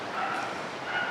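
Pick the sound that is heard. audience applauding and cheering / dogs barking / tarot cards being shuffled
dogs barking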